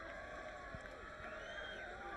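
A Centennial high school football crowd at Bakersfield cheers and roars in a steady, dense wash of voices, with whoops and shouts rising from the stands and no single sound standing apart.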